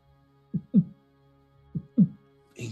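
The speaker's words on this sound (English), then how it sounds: "you just hear her heart beat" A heartbeat sound effect in a tabletop role-play session, two slow double thumps, lub-dub and lub-dub, close and low, with a brief rustle right at the end and no voices.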